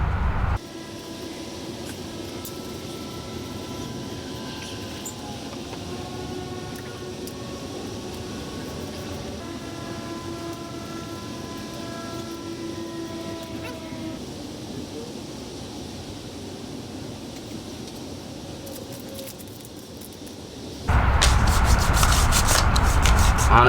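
A cloth soaked in isopropyl alcohol rubs steadily along the underside of truck roof rack rails, a continuous close scrubbing hiss with a faint tonal hum beneath, then a sudden louder noisy burst near the end.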